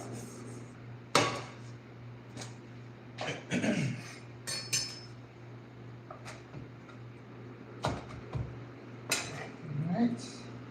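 Utensils clinking and scraping in a bowl while mixing a quinoa salad with almonds, a series of sharp intermittent clinks over a steady background hum.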